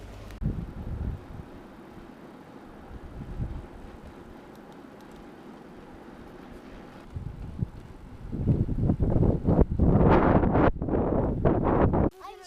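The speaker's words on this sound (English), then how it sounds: "We've got wind coming from that direction and wind coming down the valley from that direction" Wind buffets a microphone at a camping spot in the Hebrides while cycle touring, a low rumbling gust noise that runs throughout and swells much louder near the end, with no one speaking.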